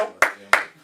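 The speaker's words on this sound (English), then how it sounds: "Clap it up for the brother" Two short sharp claps about a third of a second apart, loud and close, from an audience welcoming a guest on a health talk show; no talk during the claps.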